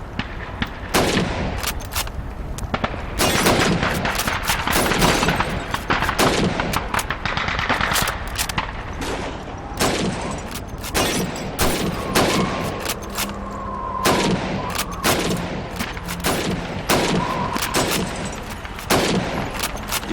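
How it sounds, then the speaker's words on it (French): Rapid bursts of video game gunfire at a shooting range as bottles and plates are fired upon, loud repeated shots in irregular volleys across the whole stretch, with faint tonal game sounds behind. "Tirez sur ces bouteilles et ces assiettes."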